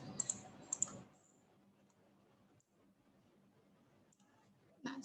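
Computer keyboard key presses, a few sharp close clicks in the first second, then near silence with a soft faint tap at the end.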